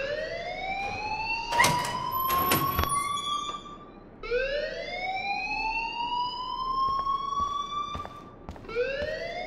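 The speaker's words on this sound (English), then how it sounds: "please turn off that alarm since that's your job" A fire alarm wails in the video game Life is Strange, rising electronic sweeps repeating loud and steady at a school, with a couple of sharp clanking hits near the start.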